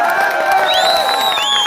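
A large crowd cheers and whoops at a nighttime election rally in Dashnan, a dense steady roar with high rising shouts and whistles and no clear pauses.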